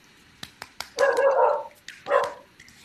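Dogs barking nearby, a few sharp yips followed by two longer whining barks, fairly loud against a quiet background.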